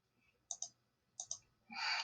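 Mouse clicks on a log-in button: two quick double clicks, close and crisp, separated by a short pause, then a brief burst of brighter noise at the end.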